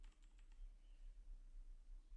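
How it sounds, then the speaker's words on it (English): Computer keyboard keys are pressed, including the escape key, with a few light clicks early on and then quiet background hum. "I'm now clicking on escape"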